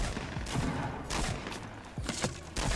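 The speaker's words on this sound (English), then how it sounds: "I just got shot at." Gunfire in the battle royale game Fortnite: several sharp shots crack out in bursts with gaps between them, moderately loud over a busy in-game background, with no voices.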